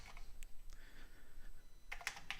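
Keys tapped on an Intellivision keyboard component, a few light irregular clicks spread out, then a quick close cluster of sharper keystrokes at the end, quiet with no voices.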